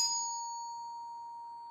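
A single B flat struck on mallet percussion rings out as one clear, bright tone that sustains and slowly fades, heard alone.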